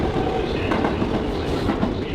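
A New York City subway train rumbling through Brooklyn Bridge City Hall station, a dense, steady roar of wheels and cars on track filling the underground platform, loud and close with no voices.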